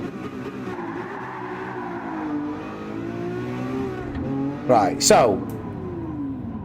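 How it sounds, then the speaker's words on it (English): A race car in a racing video game pulls off the line with traction control set to 1, its engine droning, stuttering and cutting in and out as power is held back, with a brief tire screech and someone talking over it. "off the line with traction control 1, look how much it's cutting the power and stutters the acceleration"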